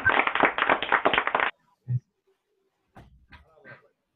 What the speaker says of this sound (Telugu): వెరీ గుడ్ గట్టిగా కొట్టండి క్లాప్స్